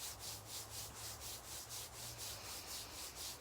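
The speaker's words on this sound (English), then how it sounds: "rubbing those hands together" Palms rubbing together in a steady back-and-forth rhythm during a guided acceptance practice, a soft continuous swishing friction that pulses about five times a second, close and alone with no talking.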